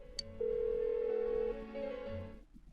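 A phone rings unanswered in Persona 4 Golden, a single steady electronic tone holding for about a second before a shorter, higher chirp, then cutting off into quiet.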